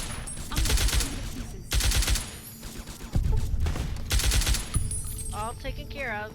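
Sniper rifle gunfire in the PC game Fallout New Vegas, several loud sharp shots in a rough rhythm, each with a short ringing tail, mixed with game sounds.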